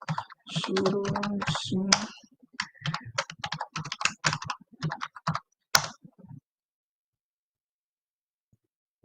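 Fingers tap out quick bursts of keystrokes on a computer keyboard, close and clicky, with someone talking over part of it before the typing stops and falls silent.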